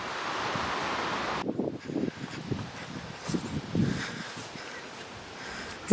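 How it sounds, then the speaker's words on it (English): A chilly northwest wind blowing across an open farm, loud steady rushing with heavy buffeting on the microphone, easing slightly into gusty rustling. "It's a chilly northwest wind this morning."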